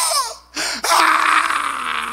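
A preacher's voice imitating men's anguished screams, a loud, strained wailing cry that breaks off briefly and then resumes as a long, sustained shriek, close to the listener.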